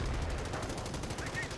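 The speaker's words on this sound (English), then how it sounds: "US sniper firing away" Rapid sniper rifle shots from a US sniper in the World War II strategy game Company of Heroes, crackling amid dense battlefield gunfire and low rumble that carries throughout.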